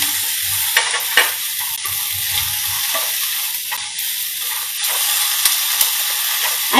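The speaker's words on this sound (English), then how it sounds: "Stir fry. Just keep stirring and keep incorporating the vegetables." Vegetables and baby corn stir-fried in a pot, a steady loud sizzle and hiss with scraping stirring strokes throughout, no voices.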